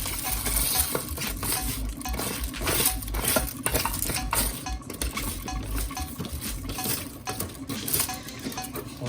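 Rice stirred and fluffed with a fork in a pot, giving steady scraping and clinking of metal against the pan, fairly close and continuous with no talk.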